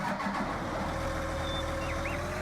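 Tractor engine in Farming Simulator 19 turning over and settling into a steady, fairly quiet idle with a low, even hum.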